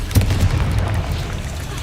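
A Confringo spell in Hogwarts Legacy bursts with a loud, close boom that rolls into a rumbling blast and fades over about two seconds.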